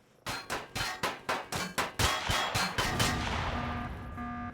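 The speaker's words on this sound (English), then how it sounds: "Shoot it, turrets, shoot it!" Automatic turrets firing in the space-building game Empyrion Reforged Eden: a rapid burst of about ten sharp shots in steady rhythm, then louder merged blasts with a ringing, metallic tail, with no talk.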